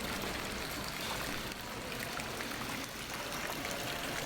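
Decorative water fountains trickle and splash in a tranquil resort lobby, a soft, continuous watery hiss that stays steady and fairly faint with no voices.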